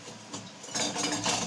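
Small metal spoons clinking against a dish while measuring groundnut oil, a few light bright taps growing busier and louder toward the end, with no speech.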